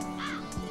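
Crow cawing in a film scene, two harsh caws close by, the second shorter, over a steady low background.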